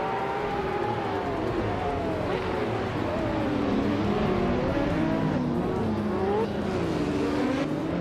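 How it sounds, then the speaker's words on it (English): A 1996 Porsche 911 GT1 race car engine at Oschersleben in a racing game drones loudly and steadily, its pitch rising and falling with shifts and revs, while other cars blend in nearby. "Pippi Langstrumpf is on pole, cruising in a classic 1996 Porsche 911 GT1."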